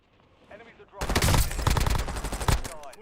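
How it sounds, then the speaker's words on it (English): Rapid automatic gunfire erupts in a video game after a quiet lead-in, dense bursts of loud close shots with a few pauses, while a voice talks faintly under it at the start. "Someone's shooting me behind."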